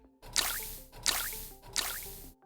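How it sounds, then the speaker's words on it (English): Three slow, evenly spaced water drips from a leak in a BoJack Horseman episode, each a bright close plop with a short ringing tail, heard alone. "That's when the drip intensifies. A slow, steady tapping."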